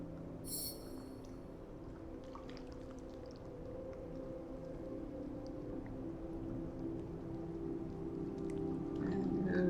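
A whale calls in a fantasy adventure game, with long low moaning tones drawn out over a soft wash of ambient music and faint rain-like hiss, steady and unbroken, no voices.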